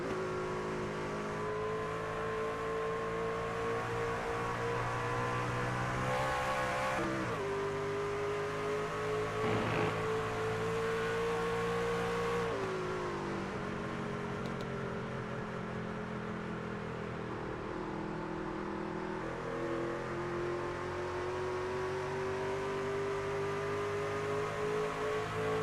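Onboard engine of the No. 5 race truck in a sim racing truck series at Phoenix drones steadily at high revs, its pitch dipping and climbing with shifts and throttle changes, loud and close throughout.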